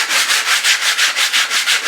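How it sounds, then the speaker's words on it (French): A wooden board for a cheap workshop tool rack is sanded by hand in quick, even back-and-forth strokes, about nine rasping passes, loud and close with no talking. "la poncer un petit coup"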